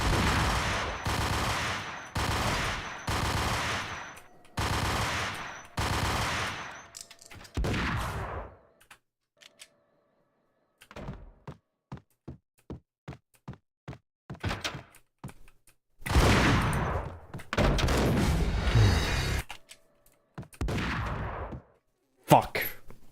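Bursts of gunfire in the Max Payne shooter game: dense volleys early on, then scattered sharp single shots and thuds, then another heavy loud fusillade, with a brief muffled voice near the end.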